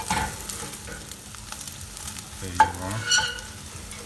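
Meat sizzles in a hot pan as it is broken up and browned, a steady close fry with a few scraping stirs and a brief spoken remark.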